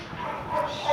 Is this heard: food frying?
no